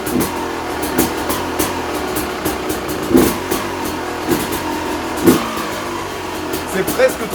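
A moped with a Fresco exhaust idles nearby and is revved in short, punchy bursts every second or two, each one loud and close before dropping back to a buzzing idle.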